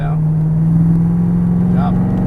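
A C7 Corvette Stingray accelerates on a Las Vegas racetrack, its engine giving a steady, loud droning hum that holds a fairly even pitch throughout.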